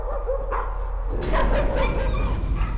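A dog in a horror video game yips and whimpers over a steady low hum of game ambience, with a brief louder bark-like burst midway and a few voiced sounds that may be people talking.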